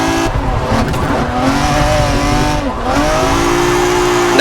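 Formula Drift cars slide through a corner with engines screaming at high revs and tires squealing, loud and close, the pitch dipping briefly with each shift before climbing again.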